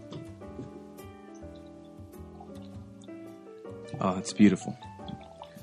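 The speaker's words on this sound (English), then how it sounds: "I'm going to go ahead and pop one open and pour it in the glass real quick" Lobos Texas Lager beer poured from a freshly opened bottle into a glass, a short splashing, bubbling burst in the latter half, with people talking and laughing over it.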